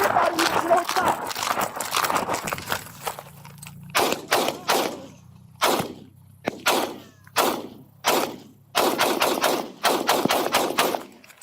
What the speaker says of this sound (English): I got shots fired.